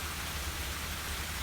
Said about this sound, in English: As soon as this rain stops and sun comes out a little bit